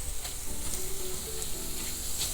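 Pork with lime sizzles and fries steadily in a pan, a close, continuous crackle with no voices.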